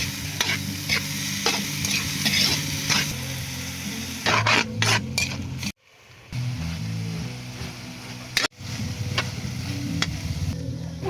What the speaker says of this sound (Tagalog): Pinagalo-halo ko lang naman mga idol ang asukal hanggang sa matunaw nga ito.